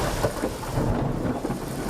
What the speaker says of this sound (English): Thunder, lightning, and heavy rain pounded the city of Creola.